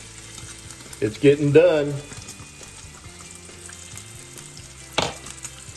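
Bacon strips frying in a pan as the fat renders out and they shrink, giving a steady close sizzle with crackles, briefly under a short spoken remark and a sharper crackle near the end.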